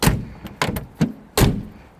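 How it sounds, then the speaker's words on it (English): A Morris Minor car door shuts repeatedly under restoration, giving four sharp, close metallic thunks about half a second apart, each fading quickly. "Door does shut."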